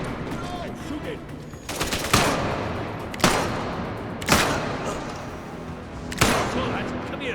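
Gunfire in the video game Atomfall: four sharp, loud shots spaced roughly a second apart, each with a short ringing tail, over a low ambient background and some speech.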